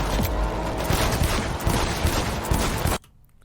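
Sustained gunfire from a shooting scene in the video game Cyberpunk, a loud dense burst of rapid shots and impacts that cuts off abruptly into near silence.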